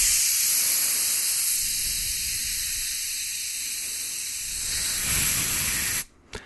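Air rushes out of a latex twisting balloon in a steady, loud hiss lasting several seconds, then cuts off abruptly with a short squeak.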